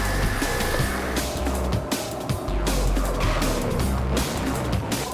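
An 11.5-litre street-legal drag car roars at Santa Pod Raceway with a loud, sustained engine blare and a heavy low rumble, filling the whole stretch without a break.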